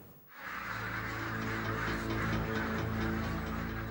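A crowded flock of ducks in a farm shed, a dense continuous chorus of quacking and calls that swells in after a brief quiet start and holds at a steady level throughout.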